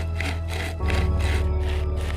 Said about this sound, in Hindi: अब हमने आरी को पेड़ में फंसाया और पेड़ काटना शुरू किया।